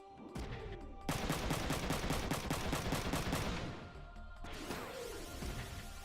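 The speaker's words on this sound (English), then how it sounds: "Again, more bullets." Rapid bursts of video-game gunfire from Front Mission 3, dense crackling volleys in a steady fast rhythm, fairly loud, easing off before a second burst starts, with no talking.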